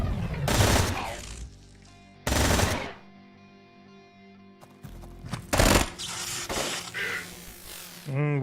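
Rapid bursts of automatic gunfire from the tactical game Quasimorph, loud and close, come in three or four separate volleys with quieter mechanical hum and clicks between them.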